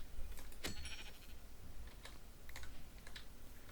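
A Minecraft sheep gives one brief bleat early on, set against scattered, quiet clacks from a computer keyboard that continue throughout.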